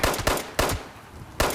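Gunfire at Scorched enemies on a mountaintop in Fallout 76: three sharp, loud shots spaced unevenly across a short burst, each with a brief decaying tail, with no talking.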